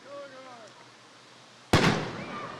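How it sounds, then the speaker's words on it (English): A Zambelli fireworks shell bursts at a Louisville, Kentucky 250th celebration: one sudden loud boom with a crackling, rumbling tail, after a stretch of crowd chatter and whistling sounds. "Nothing like a little Zambelli fireworks"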